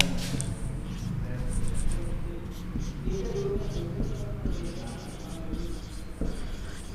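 Chalk or marker scratching on a classroom board during a meteorology lesson on temperature measurement, a steady run of strokes under continuous lecturing voice.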